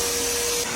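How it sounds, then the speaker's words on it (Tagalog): Vacuum cleaner running steadily in a house while dust is sucked up, a loud, constant whining roar held close throughout. "nag-vacuum na rin ako dito sa buong bahay"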